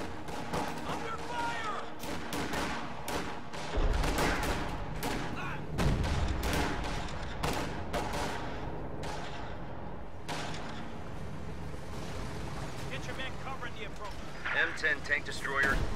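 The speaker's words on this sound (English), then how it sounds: "Spanky's actually saved up enough for another 240mm howitzer barrage, which he's dropping somewhere on the pack" Heavy 240mm howitzer artillery barrage in a wartime video game, with repeated booming impacts and bursts of gunfire-like blasts over several seconds, mixed under an ongoing commentary voice.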